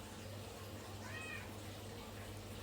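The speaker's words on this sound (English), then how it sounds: "the cat in the background" A cat gives a single faint meow in the background, brief and distant under a steady hum.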